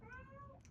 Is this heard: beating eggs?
no